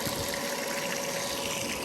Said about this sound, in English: And then there's obviously water coming out from here